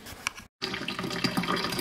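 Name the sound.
water draining through a colander after simmering filling ingredients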